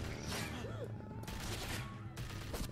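Gunshots ring out in the zombie video game The Walking Dead: A New Frontier. A few loud, sharp cracks sit inside a dense game soundtrack with music and ambience throughout.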